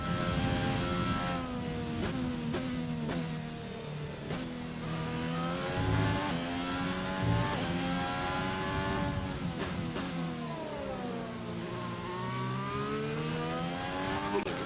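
Racing car engine screaming at high speed in a racing video game career mode, near 200 mph, a continuous loud whine with rising and falling pitch sweeps through gear changes, heard alone.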